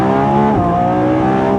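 A Lamborghini Revuelto accelerating hard, a loud close engine roar with rising and shifting pitch, held steady until a sudden cut at the end.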